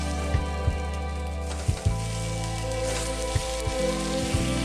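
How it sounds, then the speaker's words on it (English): Vegan French toast sandwiches frying in olive oil in a pan give a steady, dense sizzle with scattered pops and crackles, close and continuous, over a low constant hum. "Add the soaked sandwiches into a pan, and I'm gonna cook these until the bottom gets golden brown"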